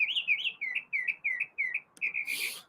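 A pet bird sings a quick series of about eight bright, chirping whistled phrases in a steady rhythm, close and clear with no talking, ending in a brief rustle.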